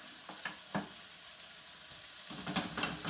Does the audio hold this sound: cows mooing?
no